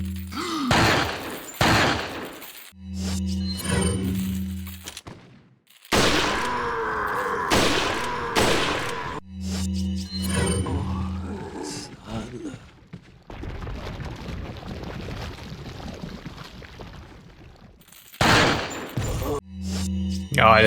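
Bursts of gunfire in a Resident Evil 4 randomizer game, loud rapid volleys and sharp shots clustered in several stretches, mixed with thuds, groans and game effects, with someone talking at times in between.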